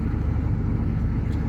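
A vehicle powered by a 6.2L Detroit diesel engine drives around a yard, giving a steady low rumbling drone that stays loud and even throughout with no speech.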